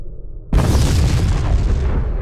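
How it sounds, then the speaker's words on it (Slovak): A single loud boom bursts in abruptly after a low rumbling quiet, then sustains as a broad roaring wash that slowly fades. "Potom prišiel výbuch"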